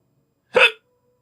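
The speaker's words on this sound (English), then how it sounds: "I got hiccups." A single short, sharp hiccup from a person sounds close up against silence, a quick voiced gulp lasting a fraction of a second.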